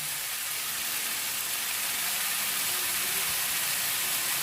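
Flat rice noodles with vegetables and sauce are stir-fried in a pan, giving a loud, steady hiss and sizzle that runs unbroken and close by with no talk.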